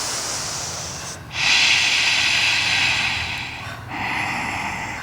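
Breathing during a yoga class in a hamstring stretch session: a long, steady, airy exhale that fades briefly, then a loud sustained breath and a second softer one, close and without talk.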